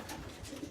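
Racing pigeons in a loft aviary give a brief, soft, low cooing close by, with no other sounds.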